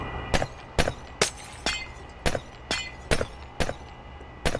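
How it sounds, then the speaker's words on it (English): Glass blocks shatter one after another in Minecraft, about ten crisp breaking sounds in a steady, evenly spaced rhythm, close and clear over a low background hum. "the sound of broken glass is everywhere for a while."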